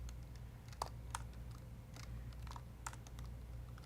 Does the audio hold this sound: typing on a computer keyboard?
yes